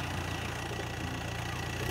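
A vehicle engine rumbles steadily and evenly at a low, constant level, with no voices over it.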